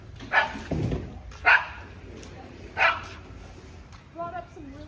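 A small dog at a yard sale gives three sharp yaps a second or so apart, then a short whimpering yip, close by, with people chatting around it.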